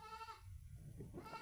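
Female goats bleat close by, one wavering nasal bleat followed by a brief second call, with no talk.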